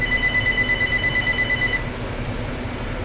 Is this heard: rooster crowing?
no